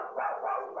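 A pet dog at home gives one short, muffled bark, thin and slightly distant as if picked up over a video-call microphone.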